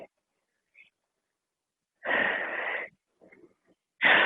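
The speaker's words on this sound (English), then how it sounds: "Inhaling, exhaling." Heavy breaths during a bodyweight workout class come in strong, close bursts, one long airy exhale after a quiet stretch, then a short catch and another forceful breath starting.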